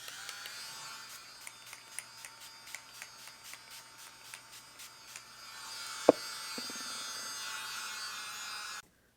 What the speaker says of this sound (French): Donc, évidemment, je prépare mon ventilo